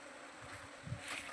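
A swarm of bees buzzes around their hive, a steady close droning hum that swells briefly, with no voices.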